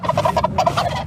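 Wild turkey, a big tom around thirty pounds, gobbling on a trail, with rapid rattling bursts of gurgling calls that come in quick repeated pulses, loud and close, with no voices over them.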